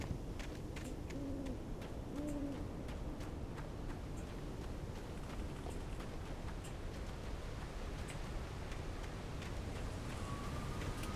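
Owl-like hoots in the Alan Wake game, with two low hoots early on, set against steady rain-like rustling noise and scattered faint clicks, as birds gather on a porch.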